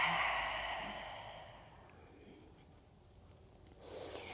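A long, soft exhale during a chair yoga stretch, airy and breathy, fading over several seconds before a fresh breath near the end.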